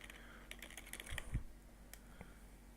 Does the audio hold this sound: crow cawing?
no